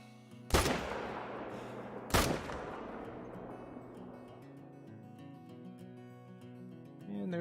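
Two loud, sharp hunting rifle shots in theHunter: Call of the Wild, about a second and a half apart, each followed by a long fading echo over quiet background music.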